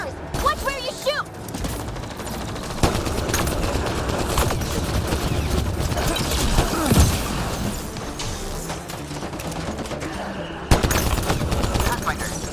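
Video game gunfire crackles in dense bursts and fusillades, with mechanical clanks and sharp impacts, game dialogue spoken over the shooting throughout.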